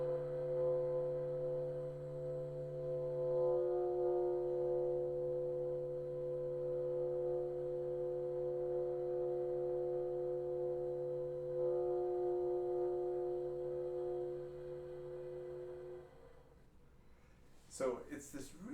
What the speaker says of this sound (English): the B flat 2 minus left hand 3 multiphonic emerges at a subito piano dynamic with a diminuendo down to 4 Ps